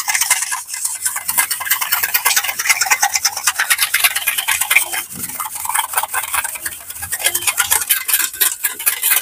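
Sugar and milk are whisked briskly in a steel bowl, a fast, steady run of bright metallic scraping and clinking strokes, close up and continuous, with no talking.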